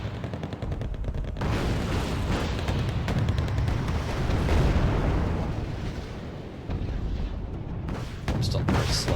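Heavy rumbling explosions and rapid battle fire from bombing runs in the real-time strategy game Wargame: Red Dragon, a dense, loud continuous barrage that swells and recedes across the whole stretch with faint voice underneath.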